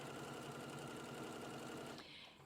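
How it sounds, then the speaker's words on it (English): A serger overlocks the side seams of a tiered vintage-style skirt, a steady close mechanical whir running unbroken for about two seconds before it eases off and slows near the end. "We want to serge it now."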